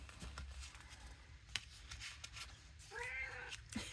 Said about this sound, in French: je crois que j'ai mon chat qui a décidé de vous faire la conversation en même temps